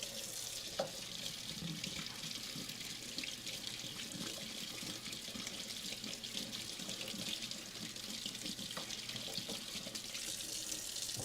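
Tap water streams steadily into a kitchen sink as food gets a quick rinse, a close, continuous hissing flow with faint clatter and no speech.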